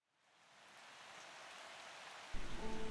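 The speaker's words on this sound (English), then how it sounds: "all the while being plummeted by the endless stream of rain" Steady rain hisses down without pause, a broad wash of pouring water that swells slightly louder near the end, with no voices present.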